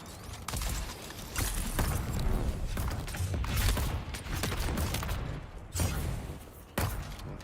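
Gunfire in the video game Dune Awakening, bursts of rapid, punchy shots with thumps and mechanical clatter repeating through a busy, dense combat mix.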